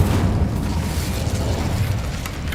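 Fire spell Incendio cast in Hogwarts Legacy, a dense, continuous booming roar with rumbling low-end bursts that stays loud and steady throughout, with no voices.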